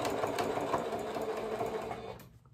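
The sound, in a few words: sewing machine stitching piping with cord onto fabric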